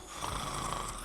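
A person imitating a snorer, making one continuous rasping, noisy snore sound up close.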